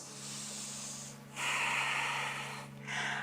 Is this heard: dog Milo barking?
no